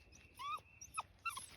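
A dog whines in three short, rising high-pitched whimpers, close and fairly quiet, with brief gaps between them against a low background hum.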